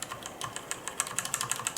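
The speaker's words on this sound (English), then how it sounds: "I'm trying to press the number 4 on the keypad, and it is not typing because it is unlocked" Keys tapped one after another on a computer keyboard's numeric keypad, a quick run of light plastic clicks at an uneven typing pace, close and fairly quiet, with no talking.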